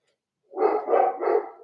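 A dog close by gives three quick, loud barks in a row, with nothing else around it.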